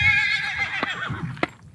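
A horse whinnies loudly and close by in a long wavering neigh, followed by a couple of sharp snorts or hoof knocks as it fades out.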